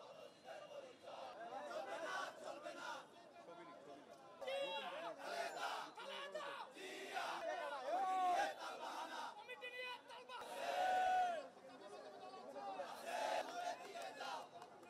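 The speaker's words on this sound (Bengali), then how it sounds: "এর আগে নয়াপল্টনের প্রধান সড়কে কাফনের কাপড় পরে মিছিল করে ছাত্রদলের পদবঞ্চিতরা।" Street protest march on a main road in Dhaka's Naya Paltan by student activists wearing burial shrouds: a loud crowd chants and shouts in surging waves, with voices rising and falling together close by throughout.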